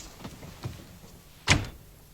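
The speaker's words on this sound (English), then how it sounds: "Oh, close the door." A door is pushed shut indoors on a chilly night, giving one distinct solid thump after a couple of softer knocks and shuffles, heard fairly close in a quiet room.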